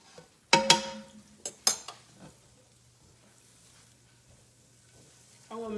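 Butter and a little oil in a pan before eggs go in: a few sharp clanks of utensils and cookware up front, then a quiet low sizzle underneath, with more kitchen clatter at the end.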